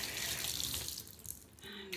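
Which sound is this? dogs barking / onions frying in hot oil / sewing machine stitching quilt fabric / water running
water running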